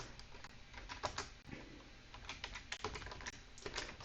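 A line of code typed on a computer keyboard, with quiet, irregular clicks of keys in quick bursts and short pauses, close by and with no talk.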